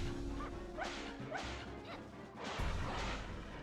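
Dogs attacking in the game Castlevania 64: several sharp barks and snarls with swishing hits and crashes, repeating over a few seconds, with no talk.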